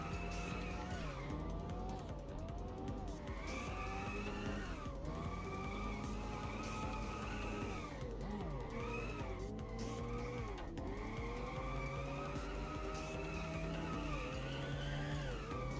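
A car drifting in Fortnite, with a continuous engine drone and tire squeal rising and falling in pitch, loud and unbroken with no talk.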